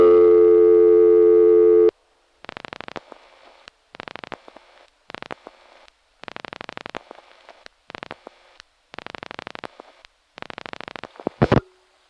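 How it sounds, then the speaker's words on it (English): A telephone busy signal from the Slotsburg exchange, reached through a Nyack sector N1 carrier from a Mamaroneck NY No. 5 Crossbar office. It opens with a steady loud tone, then breaks into repeated cadenced bursts broken by clicks from other callers, with no talk. "here's the Slotsburg busy signal as it is now"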